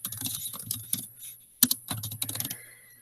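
Someone types a description on a computer keyboard in quick close-up bursts of clicky keystrokes, pausing briefly between runs, with no talk over the typing.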